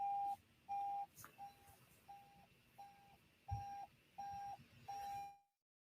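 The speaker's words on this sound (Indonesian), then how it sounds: "Saya akan matikan alarm saya ya" An alarm beeps in a steady rhythm of about eight short, moderately loud bursts, then stops abruptly as it is switched off, leaving silence.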